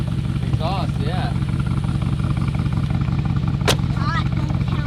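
A motorcycle engine and exhaust drone steadily and loudly at close range while people talk over it, with one sharp pop partway through.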